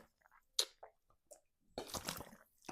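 Someone drinks water from a bottle close by, with a few soft separate swallowing and squishing sounds, followed by a louder, longer burst of gulping and sloshing.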